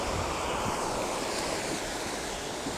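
Strong wind sweeps across a Lake Michigan beach, a loud steady roar of gusts and microphone buffeting with surf mixed in, no voices.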